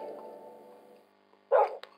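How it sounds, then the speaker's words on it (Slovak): A single sharp dog bark rings out near the end, loud and close, after a steady droning hum fades out. "on tu má psa"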